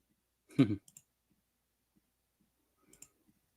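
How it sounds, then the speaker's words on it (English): Two isolated mouse-style clicks sound close and clear, one fuller snap followed by a small tick and then a second lighter click about two seconds later, with near silence between. "Let's just keep on clicking."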